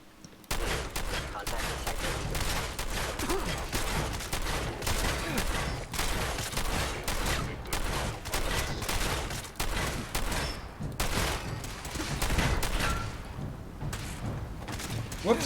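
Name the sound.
gunfire in the video game Fallout 4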